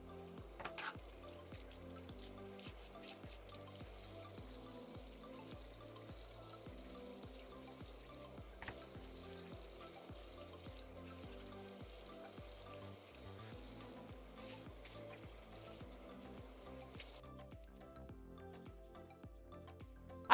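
Steady running water from a tap while makeup is washed off, a soft continuous splashing hiss with faint rhythmic knocks underneath, fairly quiet and without talk.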